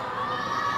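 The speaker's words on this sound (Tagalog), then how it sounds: "Every time they make a shot, the crowd goes wild." A basketball arena crowd roars in a brief sustained burst of cheering and shouting after a made shot, dense and loud throughout without clear individual voices.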